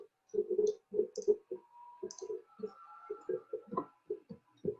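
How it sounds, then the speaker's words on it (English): Numbers keyed into a calculator, a quick irregular series of small, close clicking button presses with a few faint electronic beeps in between. "So in our calculator, we just type 1 over 8"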